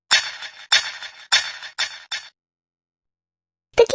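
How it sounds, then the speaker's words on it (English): A marble dropped onto a thin glass pane strikes it in a run of five bright, ringing clinks that come quicker and fade, then a pause of silence and one last sharp glassy tap. "Observe the marble dropped onto the thin glass pane below."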